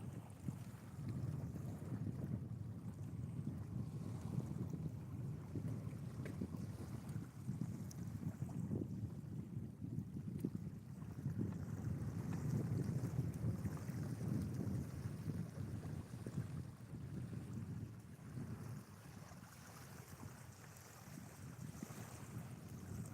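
Steady low wind rumbles and buffets the microphone outdoors on a fishing trip, with faint water movement underneath, continuous and fairly even throughout with no talking.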